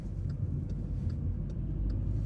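Steady low road rumble inside a moving car, a continuous droning hum with faint ticking above it, heard alone without speech.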